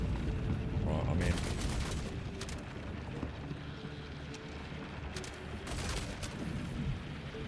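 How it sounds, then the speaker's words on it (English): Sustained suppressive gunfire rattles through a Star Citizen firefight in dense overlapping bursts, with sharper volleys standing out around the start and near the end, all set against a continuous roar of battle. "One's got some suppressive fire, I reckon"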